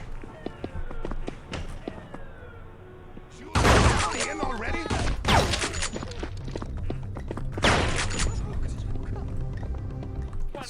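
Bursts of automatic gunfire from the FBI Hostage Rescue video game, with loud volleys at irregular intervals and quieter game noise in between.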